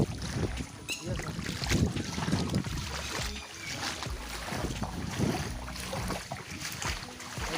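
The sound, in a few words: footsteps of someone walking through water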